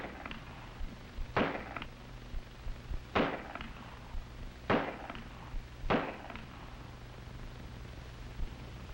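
Gunfire on an FBI firearms range: four sharp, loud shots spaced about a second and a half apart, each with a short echoing tail, against a steady low hum with no talking.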